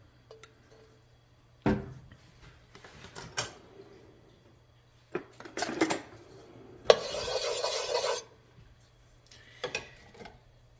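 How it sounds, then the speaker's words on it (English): Food searing in hot sesame oil in a pan, with a low steady sizzle broken by sharp clanks and scrapes of utensils against cookware and a louder burst of sizzling partway through; no voices. "I'm just gonna pan sear it"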